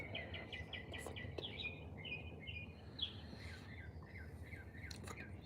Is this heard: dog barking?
no